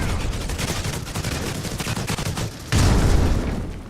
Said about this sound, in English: there are a lot of bullets being shot